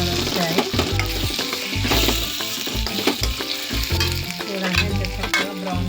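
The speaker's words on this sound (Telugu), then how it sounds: "మీడియం ఫ్లేమ్లో పెట్టుకొని మనము ఫ్రై చేసుకుందాం" Onions frying in a pan over a medium flame, a steady close sizzle with stirring and scraping running throughout.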